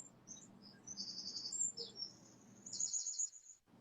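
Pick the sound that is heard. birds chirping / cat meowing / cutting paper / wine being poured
birds chirping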